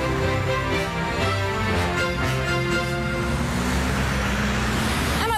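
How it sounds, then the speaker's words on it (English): Heavy traffic with buses grinds through the crossroads of Regent Street and Piccadilly in central London, engines droning and rising as vehicles move past close by, one louder pass near the end. "It's crazily busy here with buses"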